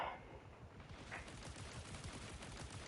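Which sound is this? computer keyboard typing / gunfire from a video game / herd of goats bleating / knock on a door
gunfire from a video game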